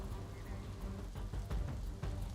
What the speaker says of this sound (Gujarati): અમદાવાદમાં આજે વહેલી સવારથી અનરાધાર વરસાદ હતો